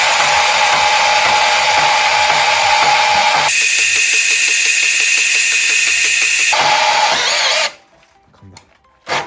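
Power tool cutting 5 mm SUS304 stainless steel at speed 2, a loud continuous high-pitched grinding whine that shifts in pitch midway, then cuts off abruptly into quiet near the end.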